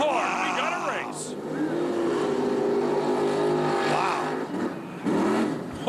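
Mud truck racing engine roaring steadily at an outdoor mud race, a sustained loud drone with shifting revs, while a commentator talks over it almost throughout.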